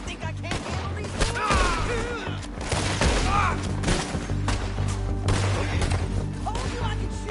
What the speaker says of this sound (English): Told you I could shoot a gun, didn't I?